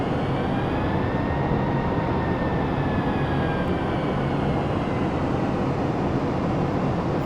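Steady, loud jet engine roar from a Boeing 757-300 in Flight Simulator X with auto throttles off, a continuous broadband rumble with faint tonal whine, unchanging throughout.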